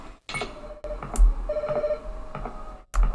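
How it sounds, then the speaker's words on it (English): A telephone in a horror video game rings in short electronic bursts separated by brief silences, loud and close. "I think the telephone's ringing."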